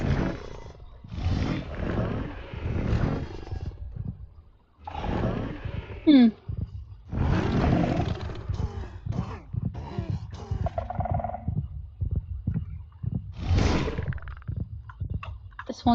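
Whale mob calls from the Minecraft CaveMan-Craft modpack: a series of deep, loud, moaning roars in separate bursts with short pauses, plus one higher whistling cry partway through.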